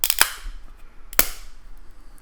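A plastic graded card slab being pried and cracked open with a knife: two sharp, loud cracks about a second apart, each snapping off quickly into a quiet room.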